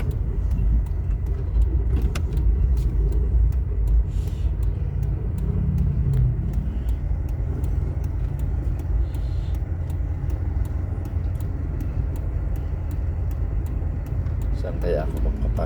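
A car circles slowly through a parking lot hunting for an open space, its engine a steady low rumble throughout with faint road noise and no clear talk over it.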